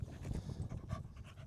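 A dog pants quickly and steadily, close and fairly soft, in a brief run of rhythmic breaths with no talking.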